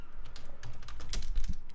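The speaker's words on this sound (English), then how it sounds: "actually typing it out is sort of a way just to make it make sense" Fast, continuous typing on a computer keyboard, with dense clicking keystrokes close to the listener and a few heavier key presses, and no one speaking.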